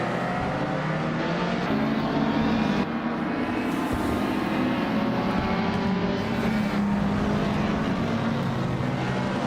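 Several race cars in a video game, among them a classic 1963 Lancia Fulvia, launch from the starting line together, a dense and steady roar of engines at full throttle with no pause.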